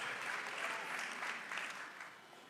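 A church congregation claps together after a sermon about the name of Jesus, a dense, steady round of applause that stays loud throughout and fades slightly near the end.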